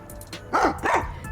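A dog gives two close, loud barks with a mouthful of something, the second following right after the first, with a few faint clicks before them.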